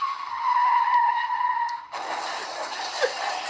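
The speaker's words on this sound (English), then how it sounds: "The car screeched to a halt." Car tires screech to a halt in a long, loud squeal that holds a steady whine, then breaks into a harsher grinding skid before fading, with no voices.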